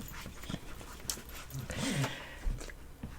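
A dog pants close to the microphone in quick, breathy puffs, with a brief whimper-like tone in the middle and some handling noise around it.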